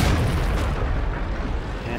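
A tank shell in World of Tanks strikes and bounces off the top of a Panzer VII Löwe's gun mantlet: a loud, close, booming metallic impact that rolls into a sustained roar with no pause.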